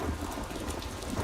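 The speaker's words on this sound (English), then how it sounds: "Rain again." Steady heavy rain pours with a low rolling rumble of thunder beneath it. The dense hiss is continuous and fills the whole short stretch.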